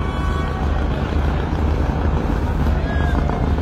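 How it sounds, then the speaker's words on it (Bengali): A passenger river launch pulls away with its engine running, a steady loud low rumble mixed with wind and water noise, as someone talks over it amid a crowded ferry setting. "আর আরেকটি লঞ্চ ছাড়তেছে"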